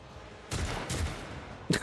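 Gunfire in the video game Warhammer 40k Rogue Trader, three distinct bursts of shots over a quiet background, the last sharper and louder, with no talk.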